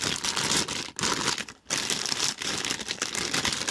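A plastic bag holding Gunpla runners for an HG 1/144 Leo kit being opened by hand, giving a close, continuous crinkling and rustling of plastic for several seconds, with two brief pauses.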